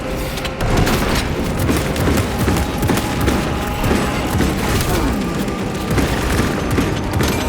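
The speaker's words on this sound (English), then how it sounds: "Frag grenade deployed!" Frag grenade explosion in Warhammer 40K Space Marine, set amid loud, continuous battle noise with booms, crackling gunfire and debris clatter throughout.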